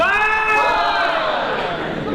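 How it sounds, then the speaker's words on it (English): Wrestling crowd at a charity show chanting in unison along with the referee's count, a dense roar of many voices with rising and falling chant contours, steady and continuous throughout. "He's getting the whole crowd to count now"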